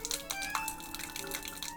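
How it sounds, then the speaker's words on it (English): A drink poured over a bird's head in Aviary Attorney, a short patter of splashing, dripping liquid with small ringing tones, close and fairly quiet. "Pour a drink on his head."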